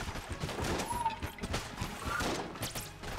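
Enemy gunfire in the game Enter the Gungeon, a dense, continuous clatter of rapid shots and impacts mixed with busy game effects throughout.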